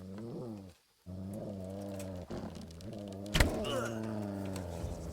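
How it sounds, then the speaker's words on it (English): Low, rumbling growl of an enemy in the medieval game Kingdom Come: Deliverance, sustained and wavering across the clip with a brief break and a sharper burst near the end, heard alone without talk. "he's growling"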